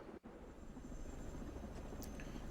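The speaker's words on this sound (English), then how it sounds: "4 helicopters full of badasses." Helicopters in the video game Ghost Recon Breakpoint, a steady loud rotor drone with dense low rumble filling the whole stretch, briefly dipping near the start before holding constant.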